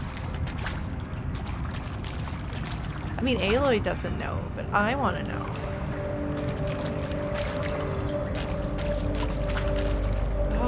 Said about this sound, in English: She's just gonna like go like tromping through the water.